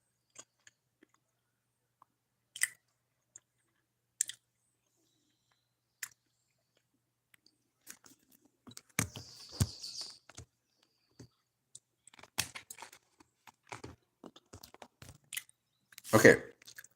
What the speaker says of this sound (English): I need to stop chewing.